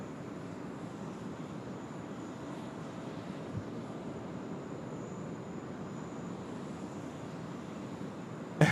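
A China Southern airliner landing at Sydney Airport on runway 16 right, a steady distant roar of jet engines that holds evenly throughout, broad and rumbling with no voices over it.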